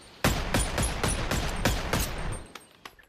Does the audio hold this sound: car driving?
no